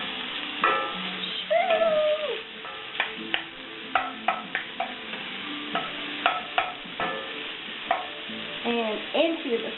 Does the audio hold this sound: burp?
no